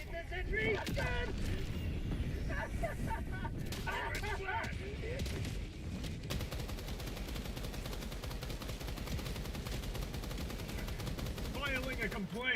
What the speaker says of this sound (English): It's a sentry! It's a gun!